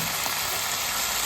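Soy sauce hits frying pineapple rice in a hot pan with a loud, dense, continuous sizzle that lasts only a moment, with no voices.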